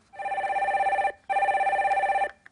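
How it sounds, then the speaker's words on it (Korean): A telephone rings twice as a caller is connected to a live broadcast, two long warbling electronic bursts separated by a short pause, loud and clear with no voices. "첫 번째 전화 연결해 보겠습니다"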